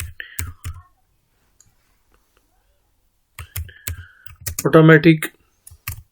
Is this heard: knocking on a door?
no